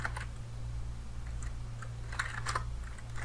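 Fingers tap out the ifconfig command on a computer keyboard in a Kali Linux terminal, a quick irregular run of clicky keystrokes over a steady low electrical hum, with no talking.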